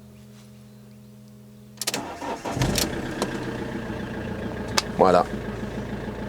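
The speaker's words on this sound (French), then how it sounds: "ça démarre au quart de tour" A camper van engine, around 88,952 km on the clock, cranks briefly after a quiet stretch and catches at once, then settles into a steady close idle as a voice speaks over it.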